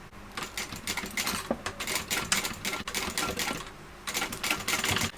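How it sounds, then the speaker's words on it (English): A sewing machine top stitching a tote bag an eighth of an inch from the raw edge, a fast close rattling clatter in short bursts with brief pauses between runs. "I'm top stitching this at 1/8 of an inch from my raw edge here"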